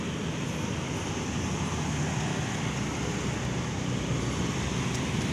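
Busy road traffic at a railway crossing on Jl Demak in Surabaya: a steady, dense wash of passing vehicles, an unbroken moderate roar throughout with no voices.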